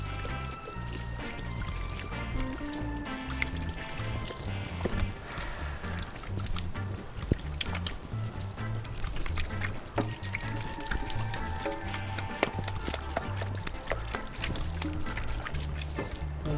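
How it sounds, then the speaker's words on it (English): Tap water runs steadily into a kitchen sink during handwashing while cooking, a continuous splashing trickle with occasional clinks, moderately quiet, no talk. "We're going to wash our hands because we don't want nasty shit everywhere."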